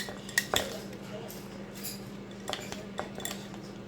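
Macaroni and cheese is stirred in a container with a utensil, giving several sharp clinks and scrapes against the sides amid quieter rustling, close and fairly soft.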